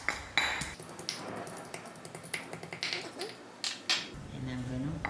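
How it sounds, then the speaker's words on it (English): Garlic is roughly ground by hand for a prawn and chicken curry, a run of sharp irregular clicks and scraping knocks of the grinding tool, fairly close, with a voice briefly audible near the end. "I'm going to just grind my old garlic quite roughly"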